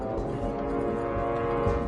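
A ghost train rolling along in the game Hitman 3, with a steady low rumble, tonal horn-like drones and a continuous mechanical hum close by.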